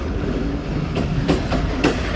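Attock Passenger train, 202 Down, running through Kanjur railway station, heard from the last coach: a steady low rumble with rhythmic clickety-clack wheel beats over rail joints.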